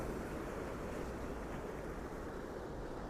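Steady sea surf washes in at Balneário Camboriú beach, a faint continuous roar of breaking waves mixed with wind noise, no voices present.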